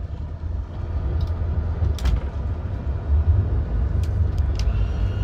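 A 2004 Sea Ray Sundancer 28 cruiser's inboard engine runs steadily in gear, a continuous low rumble with no voices, and faint light clicks sit above the drone.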